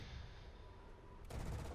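The cannon of a Mirage 2000 jet in War Thunder opens fire in the last half second as a sudden, dense burst over steady cockpit engine rumble.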